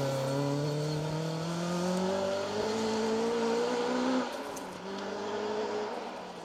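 A Ford Escort rally car drives past, its engine note climbing as it revs hard and nears, then dropping in pitch as it goes by and pulls away, loud with no talk over it.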